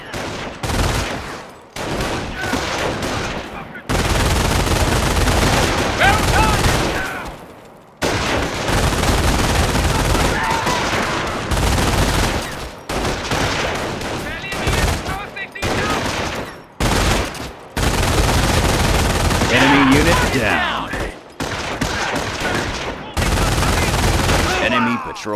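Infantry squads exchange fire with an enemy patrol in Company of Heroes, with loud, dense bursts of rifle and machine-gun fire that roll on in long volleys broken by brief pauses.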